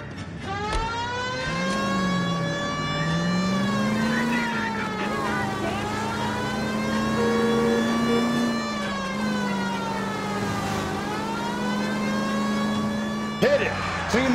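A car drives at speed with its siren wailing in L.A. Noire, rising and falling tones over a steady engine hum, loud and close, with voices briefly heard.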